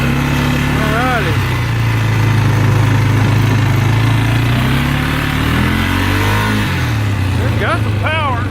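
A 2012 Polaris Sportsman 500 ATV under repair runs with four-wheel drive engaged. Its loud, close engine hums steadily, and its pitch rises and falls in several revs, climbing sharply at the start and again near the end.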